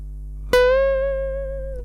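A single plucked electric guitar note on the second string, twelfth fret, bent upward by a whole step right after the attack, then held and ringing out steadily, clear and close with no talking.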